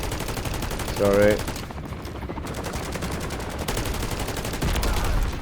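Sustained rapid gunfire in Modern Warfare Zombies, loud and continuous with dense automatic bursts, while someone briefly says something over the shooting.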